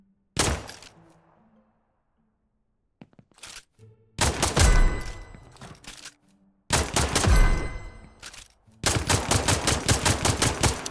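Gunfire in the video game Nuclear Epoch comes in loud close bursts, a single shot and short pops first, then long rapid automatic volleys separated by brief silences.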